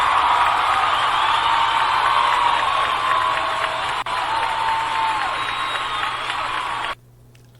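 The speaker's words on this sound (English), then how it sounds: "can we give the Supreme Court a round of applause?" A studio audience of a daytime talk show breaks into a sustained roar of applause and cheering, broad and steady for about seven seconds before cutting off abruptly into near silence.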